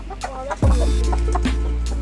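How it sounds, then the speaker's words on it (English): Several chickens cluck and murmur close by, a few short calls followed by a steady low bustle of fowl noise, with no talking. "My chicken's coming."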